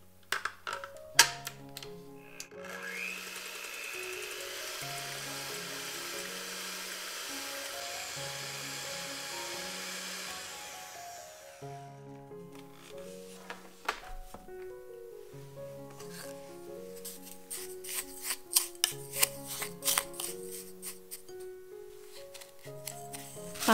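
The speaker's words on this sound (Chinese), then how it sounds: "以隔水加热的方式，用中速打发1分钟。" An electric mixer at medium speed whips eggs over a warm water bath for a Portuguese sponge cake. It gives a steady whirring drone for about nine seconds, then stops, with light music playing throughout.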